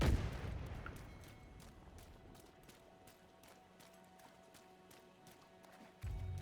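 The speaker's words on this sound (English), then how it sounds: "Oh, something blew up. Must have blown up behind us." A video game explosion goes off behind the player: a deep boom at the start that fades into a quiet rumble, followed by sparse faint clicks and thuds.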